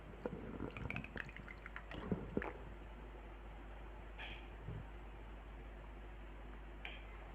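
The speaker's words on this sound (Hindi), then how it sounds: "थोड़ा सा पानी पी लिया जाए" Someone takes a few sips of water: soft, close-up liquid clicks and small swallowing sounds cluster in the first couple of seconds, followed by near silence with a couple of faint ticks.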